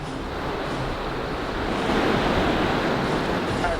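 A river in the wilderness rushes along in a steady, broadband wash of flowing water, close and continuous, swelling slightly louder toward the end with some wind mixed in.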